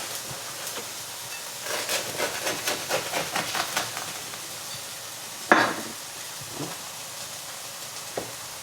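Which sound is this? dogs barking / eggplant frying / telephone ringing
eggplant frying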